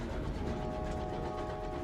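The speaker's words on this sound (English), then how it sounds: "Oh, look, a little actual train." A small train in the game Sunless Skies rumbles along with a dense, continuous clattering roar, loud and steady throughout with no voices.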